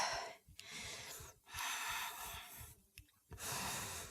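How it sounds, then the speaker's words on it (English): Deep, audible breaths during a vinyasa yoga flow, about four slow cycles of drawn-in and released air with short pauses between, close and soft, with no talking. "Breathing here."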